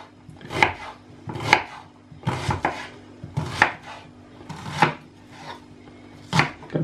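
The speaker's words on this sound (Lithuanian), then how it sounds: "Aš pjaustau taip normaliai," A knife chops onions on a cutting board at a steady moderate pace, seven or eight distinct crisp thuds spaced about a second apart, close and clear with no talking.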